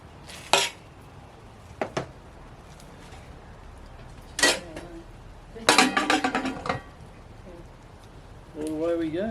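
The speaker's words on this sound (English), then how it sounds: "Put the lid back on." A lid set back onto a cooking pot while lamb shanks cook at a camp cookout, a few short metallic clanks and knocks spread out under intermittent talk.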